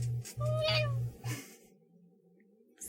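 A pet cat named Jason meows twice in quick succession, close and fairly loud, followed by quiet room tone with no talk.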